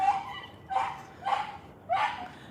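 A German Shepherd next door gives four separate barks, short and sharp, each well spaced from the next. They carry from some distance across an otherwise quiet outdoor garden.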